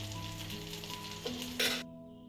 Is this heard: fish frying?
yes